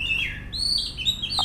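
Kacer, an oriental magpie-robin, sings a quick series of clear, high sliding whistles and chirps, close and loud over a low background rumble.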